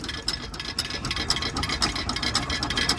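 A 1921-22 Bulldog hit-and-miss stationary engine runs at an outdoor vintage rally, producing a continuous rapid mechanical clatter with regular ticking beats over a low rumble, steady and close.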